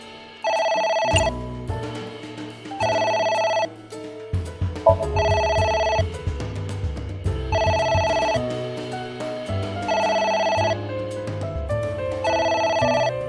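In the video game Ai The Somnium Files, a phone keeps ringing in regular repeating bursts of a chiming electronic tone, five or six rings in all, layered over a moody synth soundtrack with no talking.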